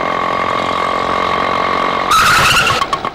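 A vehicle in an old Tamil TV serial drones with a steady engine hum, then gives a harsher, noisier burst as it pulls to a halt, and the sound cuts away.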